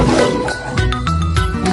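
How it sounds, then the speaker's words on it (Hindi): A lion roars loudly, close and forceful, with a faint tinkling jingle mixed in. "ये सुनते ही लायन जोर से दहाड़ा"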